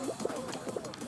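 Soft pigeon cooing from a racing party video game, a few low rounded coos repeating in quick succession at a quiet level with no talk over them.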